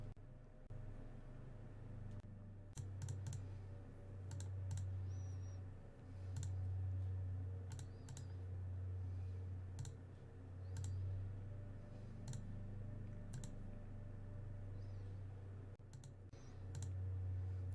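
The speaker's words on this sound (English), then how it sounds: "Just clicking." Mouse and keyboard clicks from playing Magic: The Gathering Online, sparse and faint, come in irregular taps over a constant low hum.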